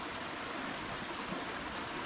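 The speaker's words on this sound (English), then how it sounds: "Sat at the side of a beautiful little creek." A small creek running off a river beside a hiking trail flows with a steady, even rushing and babbling wash, close and continuous with no voices.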